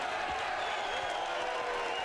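A boxing arena crowd cheers and applauds for Rudiger May, a steady, distant roar of many voices and clapping that holds evenly and sounds faint.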